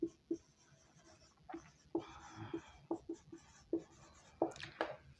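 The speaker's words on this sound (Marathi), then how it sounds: "म्हणून मी इथं उत्तर लिहितो सर्क्युलेटरी सिस्टीम" A marker or chalk writes a short answer on a board, making a series of quiet scratchy taps and short strokes in an uneven rhythm, close and faint in a quiet room.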